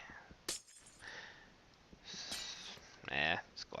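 Glass breaks in a modded Minecraft game as a few quick, sharp shattering bursts among soft clicks and faint background noise.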